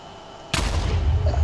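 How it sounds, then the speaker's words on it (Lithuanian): A sudden loud explosion in a video game adventure map, set off by pulling a lever: a sharp blast at about half a second followed by a sustained rumbling roar that continues to the end, with no speech. "Aš paspaudžiau svirtį ir sprogo."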